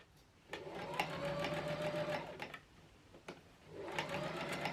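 A sewing machine stitching the side seams of a Victorian 1890 waistcoat, steady mechanical whirring in two runs with a short pause between, close and fairly quiet.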